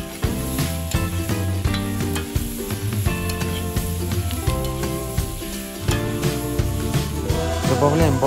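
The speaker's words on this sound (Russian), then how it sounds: "Добавляем болгарский перец и обжариваем 3-4 минуты на высоком огне." Loud, continuous sizzling of garlic and vegetables frying in a wok over high heat, with frequent stirring and scraping sounds against the pan.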